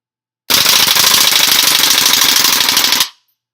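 A WE Apache MP5 gas blowback airsoft gun fires a sustained full-auto burst of rapid, dense cracks for about two and a half seconds, loud and close, then cuts off sharply.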